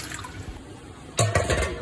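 Water is poured into a cooking pot for zarda sweet rice, a quiet background hiss giving way to a sudden louder rushing splash in the last half second, close and without talk.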